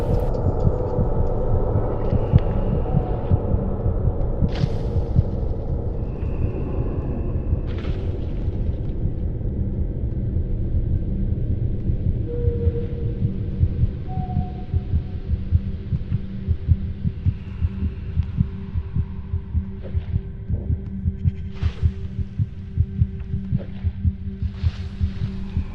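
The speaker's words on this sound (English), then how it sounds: "here it darkens a bit, and I also we added like heartbeats here to kind of foreshadow things" A heartbeat sound effect in the horror game Among the Sleep, a low, muffled, rapid thumping pulse throbbing steadily throughout over a dark droning hum, with occasional faint creaks and clicks.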